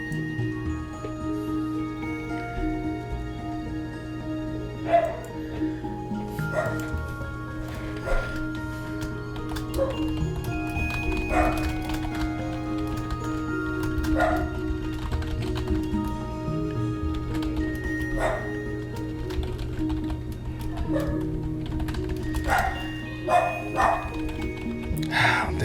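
A dog barks in a game soundtrack, giving repeated short woofs and yips spread through the passage over steady background music.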